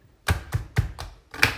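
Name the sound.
Quick Slice manual slicer chopping pork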